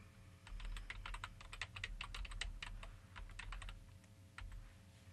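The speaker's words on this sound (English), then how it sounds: "we're going to type an email address in here" Quick keystrokes clatter on a computer keyboard as an email address is typed, a brisk irregular run of close, crisp clicks with short pauses and no voices.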